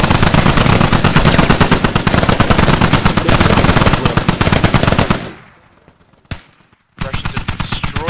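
Heavy machine gun and mortar fire in the military shooter game Squad: sustained rapid bursts of automatic gunfire for about five seconds, then a sudden drop to near silence with one sharp report, before dense firing resumes.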